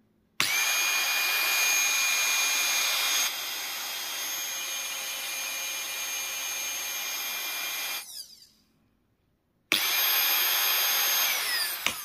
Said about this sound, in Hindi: ये 220 वोल्ट पे काफ़ी हाई आरपीएम के साथ में घूम रहा है।